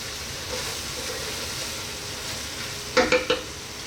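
Cabbage and noodles stirred in a frying pan give a steady low sizzle, then three quick scraping clatters near the end, close up with no talking.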